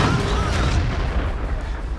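A tank cannon fires in a tank battle video game, pitting a tank destroyer against a Cromwell: heavy booming blasts and rumble, loud and dense across two seconds, with some voice faintly under it.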